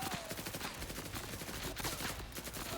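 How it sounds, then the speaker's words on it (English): Rapid, continuous bursts of gunfire from a newly acquired gun in a video game, a dense rattling fusillade at low volume with no pauses. "let's test our new gun"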